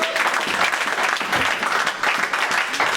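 Church congregation applauding loudly and continuously, a dense, close burst of clapping filling the space with no break.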